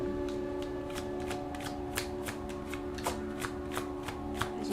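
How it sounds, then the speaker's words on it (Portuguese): Tarot cards shuffled by hand in a repeated riffling rhythm of soft, sharp flicks, close and quiet over a faint steady background hum. "embaralhando."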